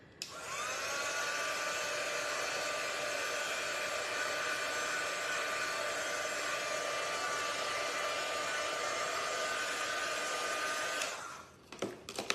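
A hair dryer blows on a craft piece from a highland cow craft box, a loud, steady whoosh for about eleven seconds before it clicks off.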